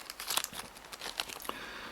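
Plastic bag being handled and crinkled during a fishing reel clicker upgrade, quiet close-up rustling with irregular sharper crackles.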